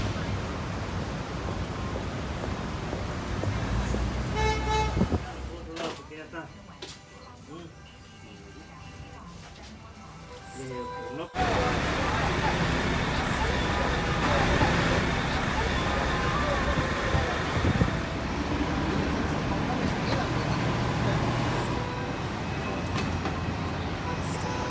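Manhattan street noise rolls through the floral district with a dense, steady roar of traffic and rumbling engines that drops briefly midway and then surges back louder, with voices faintly mixed in.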